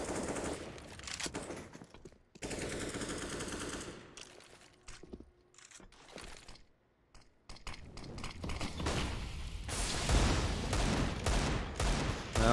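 Desert Eagle pistols fire in a CS:GO professional match on the Vertigo map, with rapid overlapping shots, rattling bursts and brief lulls, building to dense, loud gunfire from several weapons.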